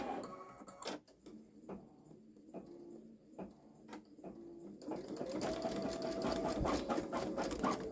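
A Babylock Solaris Vision embroidery machine sewing long stitches: sparse mechanical ticks and clunks at first, then a steady, fast whirring stitch rhythm with a faint rising whine, close and alone.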